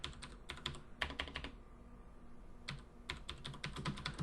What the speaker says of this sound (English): So I'll start to type that in here.